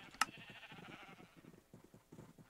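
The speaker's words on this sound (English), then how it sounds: "those sheep were super annoying. They're normally not that loud." Sheep in the Minecraft video game bleat loudly and repeatedly, one sharp cry standing out near the start, with more overlapping bleats carrying on throughout.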